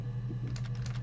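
Brief patter of keystrokes on a computer keyboard during PC gameplay, a few quick taps over a steady low hum.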